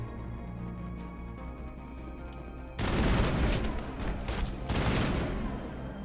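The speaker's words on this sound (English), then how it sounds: "assault rifles are so overpowered in this game" Assault rifle fire in Mass Effect 1 bursts in suddenly after a quiet musical stretch, a loud rapid volley that pauses briefly and resumes, close and dominant.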